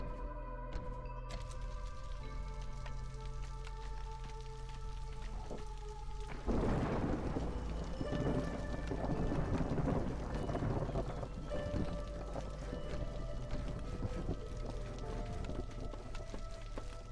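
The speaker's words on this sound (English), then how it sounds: "And the storm is upon us." A thunderstorm sweeps over the settlement in the strategy game Against the Storm, with steady rain and a swelling thunder rumble arriving after a calm stretch and rolling on beneath layered ambient game sounds.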